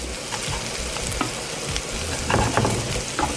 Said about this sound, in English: Here's the onions, pepper and garlic. And now I'm going to cook these through so it's all nice and soft.